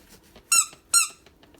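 A thrifted plastic toy with googly eyes squeaked twice in quick succession, two sharp high squeals close up, with faint handling noise between.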